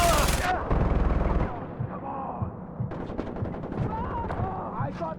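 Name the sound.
mounted machine gun firing in video game Far Cry 4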